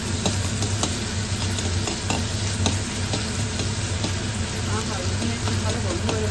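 Green chilli and garlic sizzling loudly in a hot pan while being stirred, a constant frying hiss broken by frequent scraping and clinking strokes of the utensil, with a low background hum throughout.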